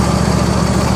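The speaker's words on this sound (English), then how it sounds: "But this Intech Twin 24 is one of the smoothest engines I've ever owned or ever seen." A Briggs & Stratton Intech Twin 24 engine on a Husqvarna YTH2448T lawn tractor runs at a smooth, steady idle, a close, loud, even drone with a fine regular pulse and no speech.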